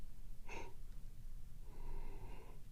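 A yawn, with a short sharp intake of breath followed by a longer drawn-out breathy exhale, close and fairly quiet against background noise.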